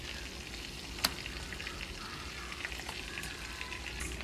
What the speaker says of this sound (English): After the butter is melted, we're going to go ahead and take my cut plantains, and I'm going to place them in there flat.